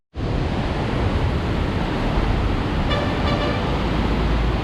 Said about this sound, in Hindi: इतने दूर बड़ी हाइट से पानी गिर रहा है, इतनी ऊंचाई से गिर रहा है।